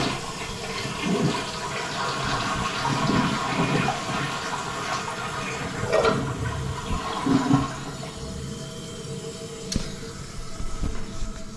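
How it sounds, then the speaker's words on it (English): A household toilet flushes, a loud close rushing gurgle of water that surges and swirls for many seconds with no talking. "then I'm gonna flush the toilet, see if we can see it."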